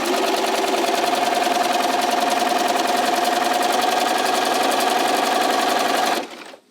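Sewing machine running steadily while stitching rows across an ombre quilt, a continuous fast mechanical whir with a fixed hum, close and loud throughout before it stops abruptly near the end.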